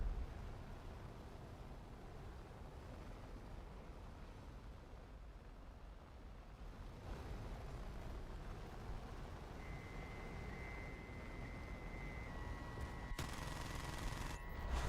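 Aircraft guns rattle away in an F-5 jet combat game, a steady dense roar of gunfire and engine noise running throughout, with brief tonal alert beeps near the end.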